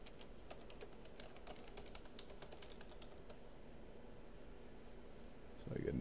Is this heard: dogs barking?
no